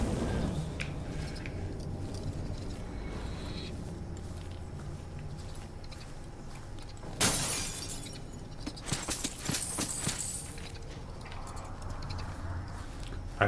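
Glass shatters loudly in the stealth game Dishonored: Death of the Outsider, one sharp crash followed by a flurry of tinkling shards, set against a steady low ambient bed.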